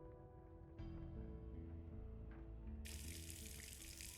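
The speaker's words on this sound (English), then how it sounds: "finally unclogged, bursts to life, and water pours out onto the dirt" In the video game Scarlet Hollow, a faucet in the corner of a room bursts to life and water pours onto dirt. Quiet background tones come first, then a steady bright rush of pouring water that continues to the end.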